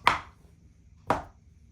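A long snake of fishing bait base mix is chopped with two sharp, separate knife strikes about a second apart, close and crisp on a board, with no talk.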